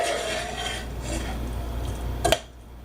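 Bulgur being mixed with dill, mint leaves and salt in a pan off the heat, a steady close scraping stir that ends in a sharp clink of the utensil against the pan.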